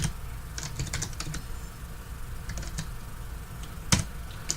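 Fingers clatter on a computer keyboard in quiet, uneven bursts of clicks with short pauses, one sharper keystroke standing out, close and faint with no talking.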